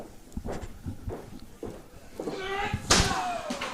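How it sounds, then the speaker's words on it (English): Wrestler slammed head first into a casket at a Halloween pay-per-view wrestling event, a series of thuds and bangs ending in a sharp, loud impact with a metallic ring, with crowd noise and a commentator talking. "Slams him head first into the casket. Face first."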